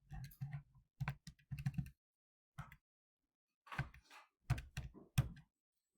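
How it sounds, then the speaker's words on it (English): Numbers tapped into a calculator in short bursts of quick clicky key presses, with pauses between groups, close and fairly quiet, no voices. "I'll type it in my calculator"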